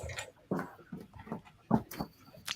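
A two-headed toy gives short bursts, squeaks from one head and growls from the other, in separate bursts with gaps between them, fairly close.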